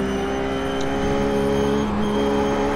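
Simulated RUF race car at Daytona in iRacing powering out of a corner, its engine a loud, steady, close-up drone with a slight shift in pitch near the end, with no talk.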